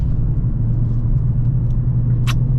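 A Mercedes-Benz CLA45 S AMG accelerates out of a corner, its deep engine rumble steady and close inside the cabin, with a quick high tick near the end as it shifts.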